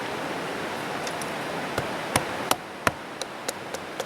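Knife batoned through a piece of wood with light taps rather than hard blows: a series of about eight sharp, close knocks, spaced roughly every third of a second and growing more regular, over a steady background hiss.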